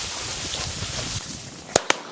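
Two sharp shotgun blasts, close together and loud, crack out during an upland bird hunt after a stretch of quiet outdoor background.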